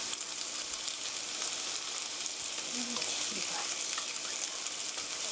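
Churros fry in a shallow layer of oil at home over medium heat, giving a steady, dense sizzle and crackle that fills the whole clip without a break.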